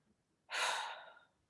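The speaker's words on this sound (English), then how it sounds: "Close your eyes, deep breath." One deep breath drawn in during a calm guided tapping session, a single close, airy inhale of about a second that fades out gently against near silence.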